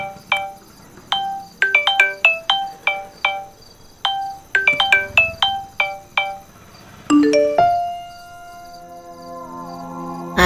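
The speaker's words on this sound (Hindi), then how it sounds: "तुम्हारा फोन आ रहा है" A mobile phone ringtone plays a bright, plucked melodic pattern, repeating phrases of quick chiming notes that end in a sustained swelling chord, loud and close with no voices.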